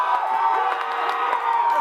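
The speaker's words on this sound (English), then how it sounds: "go ahead and cheer." A live sports-show audience cheers and whoops for a contestant, a dense burst of shouting voices at close range across the whole moment.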